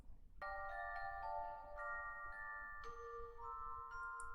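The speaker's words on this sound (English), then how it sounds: "You ring the bell." A bell is rung in the video game Quest for Infamy, several clear ringing tones struck one after another with sustained overlapping resonance over a quiet background.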